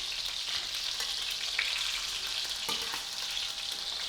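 Sausages sizzle and spit fat in a pan for toad in the hole, a steady close hiss with a few sharp pops and crackles breaking through, no voices.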